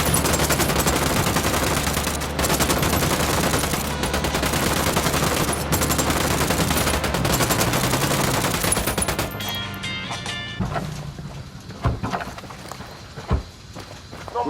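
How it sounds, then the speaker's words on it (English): Sustained automatic gunfire fills a Ghost Recon Wildlands firefight, loud bursts that then thin to scattered, sparser shots with quieter movement and rustling. "Acabo de escuchar un tiro"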